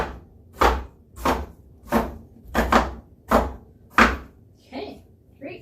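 A knife chops vegetables on a board for stone soup, seven evenly spaced firm thuds about a second apart, close and clear with little else around them.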